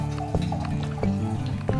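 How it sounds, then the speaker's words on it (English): Wine pours steadily into a glass beside a venison stew, a continuous close liquid gurgle with rising fill tone and small splashy pulses, over a faint background hum. "And I hear the wine pouring"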